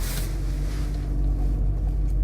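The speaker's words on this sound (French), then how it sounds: "C'est une voiture." A car drives past at night, its steady low engine rumble loud and close for a couple of seconds, with no voices over it.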